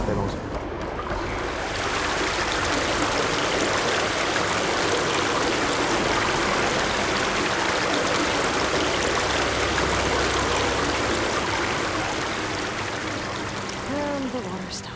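Water flows in the video game Horizon Forbidden West, a steady, fairly loud rushing stream that holds constant for most of the stretch before easing slightly near the end, with faint game tones in the background.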